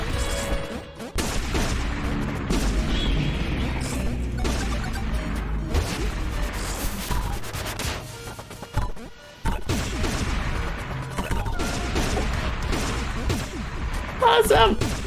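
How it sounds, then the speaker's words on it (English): Peppino fires a gun in the video game Pizza Tower, a dense barrage of rapid gunshots and crashing impacts that runs continuously and loudly, with a voice talking over it. "For Peppino's neutral special, he wields a gun."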